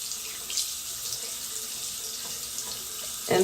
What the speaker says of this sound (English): I'm going to just get some water and just slightly wet it in the face basin